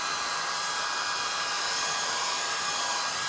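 A hair dryer blows steadily on a decoupage craft piece, a loud, constant airy whoosh that runs unbroken from start to finish with no voices.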